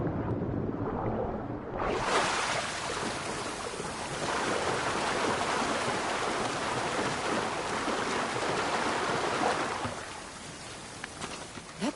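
Steady, full-band rush of falling water from a waterfall in the game Assassin's Creed Odyssey, starting abruptly after a quieter moment and roaring loud and continuous for about eight seconds before dropping back.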